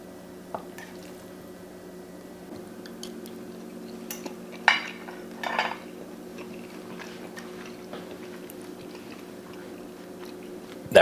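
Someone eating a forkful of wild and brown rice, soft chewing with a few clinks of cutlery against a dish, faint and close over a quiet steady hum with long pauses, with no talking.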